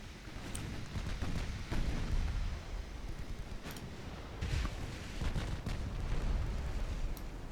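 Battleship main guns fire in a naval video game: heavy booming blasts and rumbling impacts repeat irregularly over a dense, noisy backdrop, loud and continuous with no talking.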